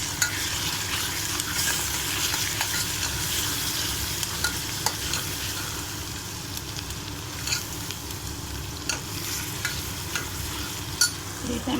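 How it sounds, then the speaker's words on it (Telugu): Tomatoes tossed into hot ginger garlic paste sizzle loudly and continuously, with stirring scrapes and crackles close up and no talking. "ఈ టమాటోస్ కూడా వేసేసుకుందాము."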